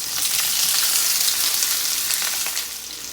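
Chopped potatoes, dill and onions fry in a pot with a steady, loud broadband sizzle that holds for about three seconds and eases slightly near the end; no one speaks.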